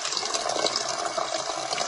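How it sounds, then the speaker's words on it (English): Highly carbonated water fizzing in a container, a dense, steady hiss of tiny popping bubbles, close and continuous without talk. "this water is very carbonated, lots of carbon bubbles in there"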